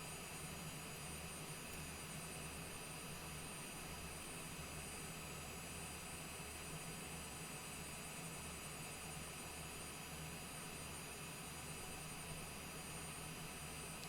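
Rear-mounted jet engines of a Cessna Longitude in Microsoft Flight Simulator 2020 idle on the ground as a steady, even whine and roar with a low throbbing hum, running alone throughout.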